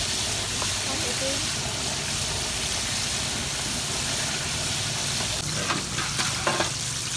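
Chicken pieces coated in flour frying in hot oil, a loud, steady sizzle running throughout with a few scrapes from stirring near the end; a voice talks faintly underneath.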